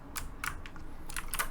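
Several crisp computer keyboard keys click in an uneven cluster as the Alt+Ctrl+2 shortcut is entered while setting up a macro, with a few separate taps heard near and clear over a quiet background.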